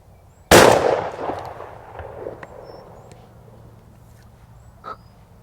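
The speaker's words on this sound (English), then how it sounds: "Let's shoot the target." A side-by-side shotgun fires once at a pattern target: a single sharp, loud blast near the start, then a decaying echo and quiet handling noises afterwards.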